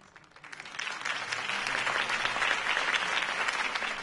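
Crowd applause in Batman: The Telltale Series swells in after a brief quiet start and holds as dense, steady clapping, loud and sustained to the end.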